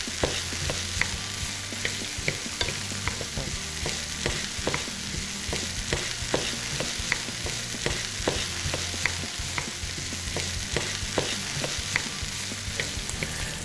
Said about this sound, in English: You take your spatula and start chipping away at it.